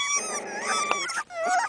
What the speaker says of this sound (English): Growling.